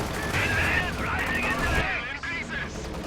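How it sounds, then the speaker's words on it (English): Gunfire and explosions rattle across a Company of Heroes 2 battlefield, with dense continuous bursts and rumbling impacts at mid distance, under voices talking. "Sounds like the Brumbar got a kill"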